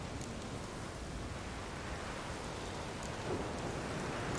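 Rain from a storm in The Witcher 3: a steady, soft hiss of rainfall fills the whole stretch at low level, with no distinct thunderclap.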